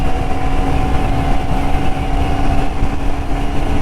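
A vehicle engine runs while being driven around the Yercaud hill station, a loud, close, steady hum with a constant droning pitch throughout and no voices.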